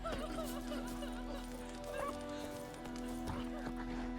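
A dog in The Witcher 3: Wild Hunt gives a few scattered yips and barks alongside horse hooves clopping and a whinny, set against a steady hum of game background.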